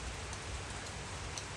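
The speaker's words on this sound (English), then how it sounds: "rainy day here, or rainy moment, because I don't think this is rain that's going to last" A passing rain shower in Aylsham, Kingston, Jamaica, a soft steady patter of drops on surfaces forming an even, continuous hiss with no voices.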